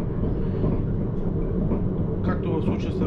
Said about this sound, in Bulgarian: Както в случая се разминахме с друг влак на двупътен участък